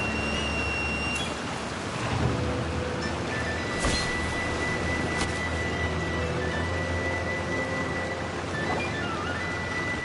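A waterfall in Genshin Impact's Inazuma region roars with a steady, full rush of falling water that fills the scene continuously and evenly from start to finish, with a few faint tones drifting over it.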